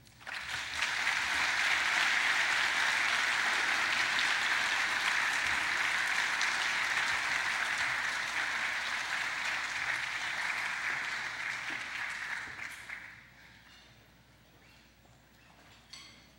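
Sustained applause from a luncheon audience welcoming speakers, loud and steady for about twelve seconds before fading to quiet room tone.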